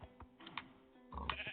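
Mules and donkeys in Minecraft on Xbox One give short, nasal bleating brays, several quick calls close together, fairly quiet, with a louder burst at the end.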